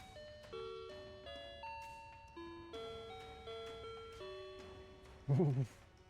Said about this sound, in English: crazy how effective that 7-second chime is